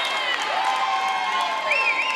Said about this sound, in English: freshman's got a cheering section right behind us